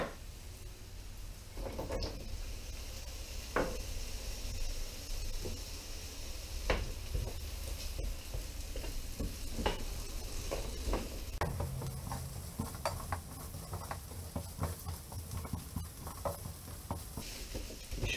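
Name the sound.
onion and carrot frying in sesame oil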